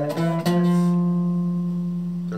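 A single F note on an acoustic guitar, fretted at the third fret of the D string, rings out clearly and sustains with a slow fade, preceded by faint handling noises and no talk.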